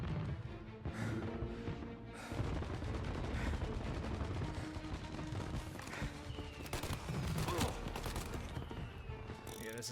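Heavy drum-fed gun in Mafia: Definitive Edition fires long, dense bursts of rapid, loud shots with crashing echoes, filling the whole stretch almost without pause.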